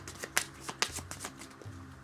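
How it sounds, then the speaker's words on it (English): A deck of cards is shuffled during a Monster Hunter World board game session, a few quick riffling bursts close by and quiet. "Okay, shuffled."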